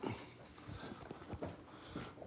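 A dog whimpering indoors, a few soft, low whines and snuffles in a quiet room, faint and close, coming in short uneven bursts.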